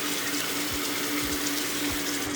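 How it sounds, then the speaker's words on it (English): Cold tap water running steadily at a sink and splashed onto the face with the hands, a continuous close hiss broken by a few soft low splashes. "You gotta use cold water, kind of close them pores out, flush that face,"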